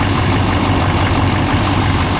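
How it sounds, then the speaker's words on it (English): A car engine runs steadily at idle with no faults, a loud, constant low rumble filling the whole stretch without any voices. "We start the engine, runs normally, all seems well, right?"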